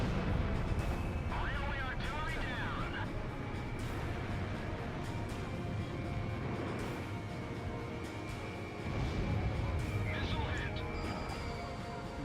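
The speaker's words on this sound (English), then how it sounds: "Let's use a mix of missiles and guns to take care of the rest" Continuous in-game combat din from Ace Combat Zero, missiles and gunfire blending into a dense roaring wash with a jet engine drone, while a voice talks over it throughout.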